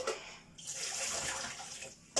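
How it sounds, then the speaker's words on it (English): Water pours from a container into a cooking pan for a cottage pie with swede and potato, a continuous splashing gush with a short pause early on and a sharp clatter at the end. "I'm just tip some of this water up"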